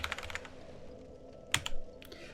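Computer keyboard keys pressed during a Dark Souls 2 game session: a quick cluster of soft clicks at the start, then a short burst of sharper taps after a pause, close and moderately quiet.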